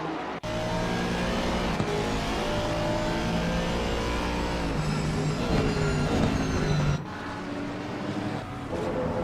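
A Ford Mustang race car engine at Watkins Glen, heard onboard, drones loud and steady with shifting harmonic pitch as it revs and climbs, then cuts sharply and drops to a lower note near the end.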